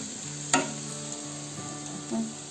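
Dal frying in a pan on a home stove, a steady sizzle with a sharp spoon scrape near the start and a softer stirring swish near the end.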